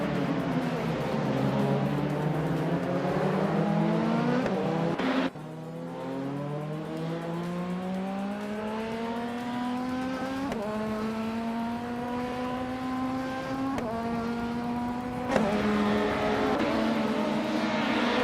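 Race cars in a video game roar through gear changes, led by a 1993 Toyota Carina eGTI, with engine pitch climbing steadily and resetting at each shift, loud and continuous.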